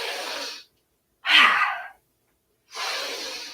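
Deep yoga breaths during a sunrise vinyasa session, three long, close, airy inhales and exhales separated by short silences.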